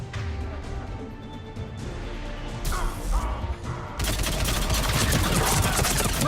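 Machine gun fire in the video game Mass Effect 3, with rapid bursts and impacts building into a dense, loud sustained volley alongside crashing noise.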